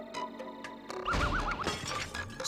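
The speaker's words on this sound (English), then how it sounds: "Kicking this dog through glass all the time." Glass shattering as a dog is kicked through a pane in a Garfield video game: one sharp crash with tinkling shards, set among short game effects and a warbling electronic tone.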